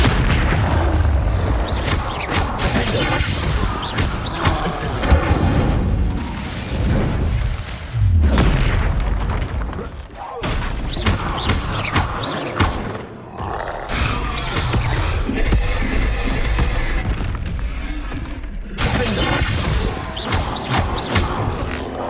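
Bombarda explosion spells go off again and again in Hogwarts Legacy combat near an enemy encampment, a dense run of loud booms, roars and crashing impacts over about twenty seconds, with no clear pause.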